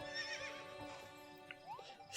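Horse neighing in the video game Fantasy Life, a faint drawn-out whinny over a soft background music bed, with a light rising tone near the end; no talking.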